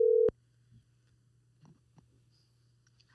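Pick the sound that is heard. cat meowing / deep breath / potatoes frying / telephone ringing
telephone ringing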